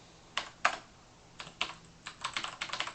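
Typing on a computer keyboard: scattered bursts of crisp key clicks, sparse at first then a quicker run of several keystrokes, close and clear with no talking.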